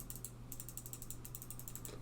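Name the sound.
Xtrfy MZ1 mouse left click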